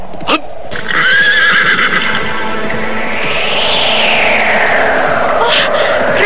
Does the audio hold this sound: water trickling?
no